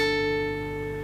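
A single acoustic guitar note, fretted with the fourth finger at the tenth fret, rings clearly alone and decays slowly over about a second.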